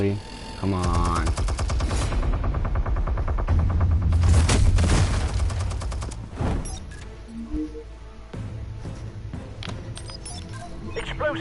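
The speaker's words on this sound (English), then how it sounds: "Another minigun, really?" A minigun fires in a Batman video game shootout, dense rapid bursts of loud mechanical gunfire with booming impacts, easing into quieter scattered shots toward the end.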